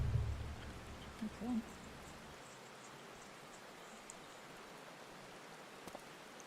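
Steady, soft rain falling in a Final Fantasy XIV scene at an outdoor tea party with paper-umbrella benches, a continuous faint hiss running throughout, with a brief spoken word near the start.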